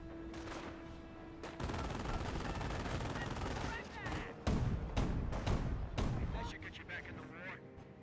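Rapid bursts of gunfire and heavy weapon blasts in a Company of Heroes battle, dense and loud, with sharp cracks and booming impacts overlapping, broken by brief lulls, with a voice talking over parts.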